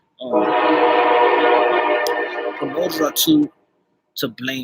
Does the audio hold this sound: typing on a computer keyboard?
no